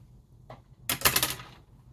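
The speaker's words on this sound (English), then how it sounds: "So I'm just going to cut it, with enough distance so I have some leftover sprue gate to work with." A plastic model kit's sprue gate is cut with a tool, giving a small faint tick followed by a sharper, louder crisp snip with a brief crackle, close up against quiet.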